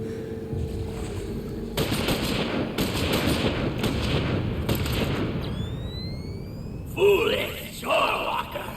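Video-game gunfire in Final Fantasy XIV: a dense, continuous burst of rapid shots lasting several seconds, followed by a swooping effect and brief game sounds, with a voice speaking over the action.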